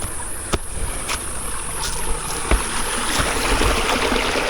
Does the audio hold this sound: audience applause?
no